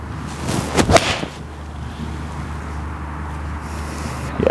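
A golf ball struck with a PXG 0211ST iron gives a crisp, sharp click near the start, followed by a brief whoosh as it flies off, with outdoor wind noise afterward.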